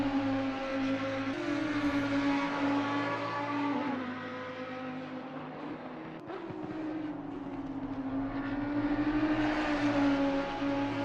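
Race car engines in a sim racing game drone and rev steadily, gears shifting with a brief dip in pitch midway, loud and sustained with no talk.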